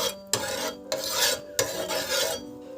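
Oil heats in a cooking pan at home, giving a steady sizzling hiss interrupted by a few scraping, rasping stirs of a utensil against the pan.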